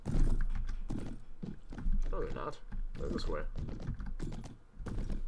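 Horse hooves clopping in the video game Mount & Blade Prophesy of Pendor, a quick rhythmic patter running under someone talking.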